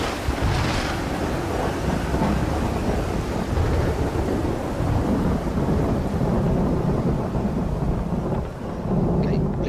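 A thunderstorm in the video game Multicellular: continuous heavy rain and low rumbling thunder fill the scene with a dense, loud, unbroken roar.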